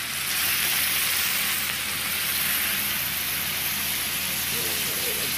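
Soy sauce hitting a hot frying pan with sesame oil, before garlic, ginger, carrots and slaw go in: a loud, steady sizzle that holds at even volume throughout.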